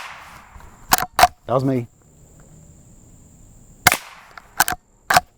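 Loud, sharp rifle reports from a Rossi Rio Bravo lever-action, five or so cracks in two clusters with a brief mumbled voice between them.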